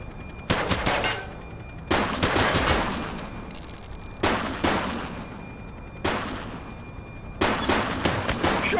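Repeated bursts of automatic gunfire ring out in a police shootout in the game The Precinct, loud volleys separated by brief pauses with echoing tails.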